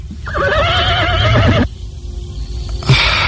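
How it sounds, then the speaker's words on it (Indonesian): A horse whinnies loudly and close for about a second and a half, a wavering high neigh, then a quieter pause with faint background before a brief snort-like burst at the end. "Aku akan segera melarikan kuda ini"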